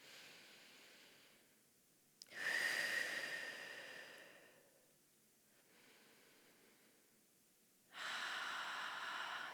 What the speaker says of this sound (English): Breathing here.